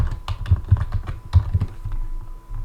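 Someone types briskly on a computer keyboard, a close run of irregular key clicks and thumps lasting a few seconds, with no talking.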